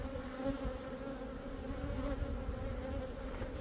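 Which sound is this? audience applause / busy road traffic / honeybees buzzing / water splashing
honeybees buzzing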